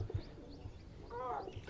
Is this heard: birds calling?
yes